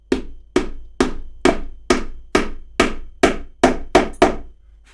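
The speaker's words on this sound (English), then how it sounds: "I just use a plastic fret hammer. Just tap that down." A plastic fret hammer delivers about eleven evenly spaced, sharp taps to seat a post into a Telecaster-style guitar body, each knock close, crisp and quickly decaying.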